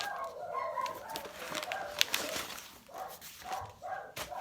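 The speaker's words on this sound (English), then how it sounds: "I need to go check on the dogs. They're barking a little bit too much." Dogs bark indoors at home, a string of short, fairly distant yaps and a whimper spread across the moment with no talking.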